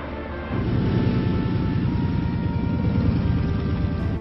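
Propeller aircraft engine carrying General Kuribayashi to Iwo Jima, a loud, dense drone that swells in after a brief quieter start and holds steady, close and continuous.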